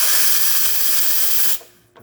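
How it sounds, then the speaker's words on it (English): A La Pavoni Pub-1 espresso machine's freshly cleaned steam tip blasts a strong, loud, steady hiss for about a second and a half, then cuts off sharply, leaving a brief faint tail. "can see we get nice strong steam now that I cleaned the tip"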